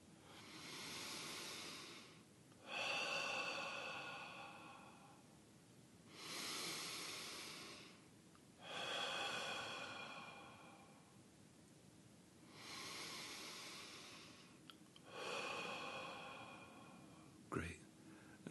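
Slow, deep breaths during a guided meditation exercise, five long airy inhale-exhale swells spaced evenly a few seconds apart, close and soft, followed by a brief bump near the end.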